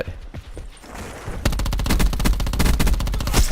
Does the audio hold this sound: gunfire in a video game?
yes